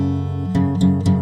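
Guitar chord fingered with an unwanted fifth on the A string, ringing out sustained and fairly loud, with three picked strums or restrikes in quick succession near the end.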